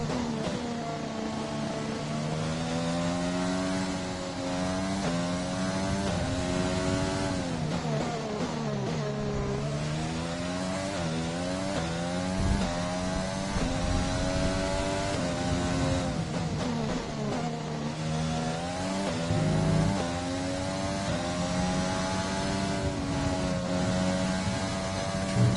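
An F1 car on an out lap in the F1 2020 game at the Spanish Grand Prix: a continuous high engine whine rises and falls through the gears, loud and steady with no talk.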